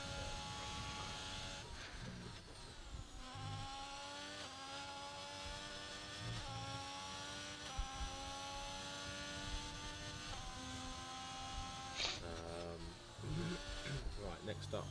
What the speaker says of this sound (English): let's go on board with Polowski in the McLaren, coming around sector 3